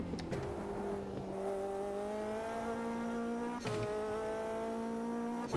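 A race car engine in the VR racing game Automobilista 2 whines loudly and close, its pitch climbing steadily through the revs, broken by two quick upshifts.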